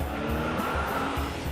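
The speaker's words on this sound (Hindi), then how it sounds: "उन्होंने भगा ली अपनी गाड़ी फुल स्पीड में" Shahid Kapoor's Range Rover speeds off at an airport, giving a brief burst of engine roar with a hint of tire noise.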